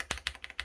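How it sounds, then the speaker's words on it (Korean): Keystrokes on a DAREU A104 Pro keyboard fitted with beige snow switches and a hard plastic case, a handful of crisp, close taps in an uneven typing rhythm with nothing else around them. "상부 기판이 무엇냐에 따라 요즘은 키보드 소리가 많이 차이가 나는데"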